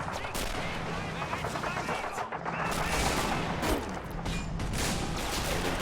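Artillery and machine-gun fire in a Men of War: Assault Squad battle during a 1944 German counterattack, a dense, continuous wash of distant gunfire and explosions that keeps a steady loudness throughout.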